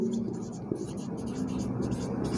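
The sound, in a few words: writing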